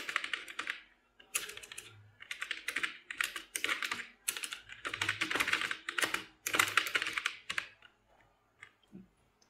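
Close, quick typing on a computer keyboard while an online form is filled in: dense bursts of crisp key clicks, separated by brief pauses, with no speech.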